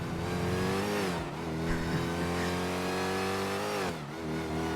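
A car engine revs hard and steadily in a GTA V NoPixel race, its harmonic whine climbing, dipping briefly near the second mark, then climbing again toward the end, loud and continuous with no talk.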